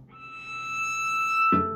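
A cello is bowed high up on its A string in a children's concert introduction to instruments, giving a thin, sustained singing note that swells slightly, with a short rough burst near the end.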